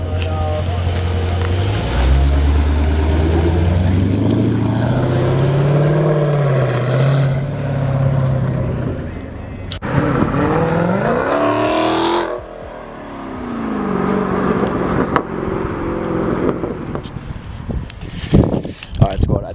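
Dodge Challenger V8 with a muffler delete, loud raw exhaust rising and falling through several revs and a drop back, with people talking over it.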